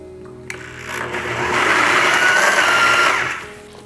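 A blender whirs through a vegan, gluten-free dill cream cheese, its motor spinning up to a loud, steady drone and then winding back down.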